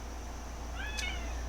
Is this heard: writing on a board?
no